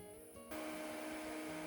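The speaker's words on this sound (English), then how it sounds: "Then grind the eggshells into a fine powder." A blender grinding eggshells into fine powder kicks on partway through, a sudden loud, steady whirring motor drone that fills the rest of the moment after a quieter hum.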